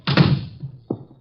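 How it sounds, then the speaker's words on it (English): A door swings shut with a heavy wooden thunk, followed a moment later by a softer knock as it settles into the frame, close and clear in a quiet room. "Shut the door."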